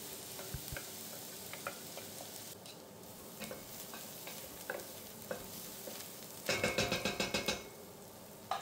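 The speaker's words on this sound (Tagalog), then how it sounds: "umpisa na natin igisa yung gulay na ginayat natin kanina. Yung carrots, onion and celery" Chopped carrots, onion and celery sauté in a pan with a steady soft sizzle, punctuated by light utensil taps and a burst of vigorous stirring and scraping near the end.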